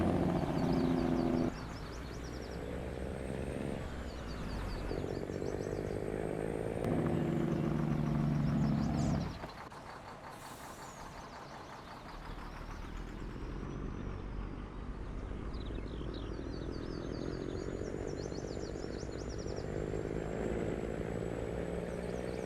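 A drone in the Farming Simulator 19 video game flies by, its steady whirring engine drone holding under shifting mechanical hums, louder at first, then settling into a constant, slightly softer buzz.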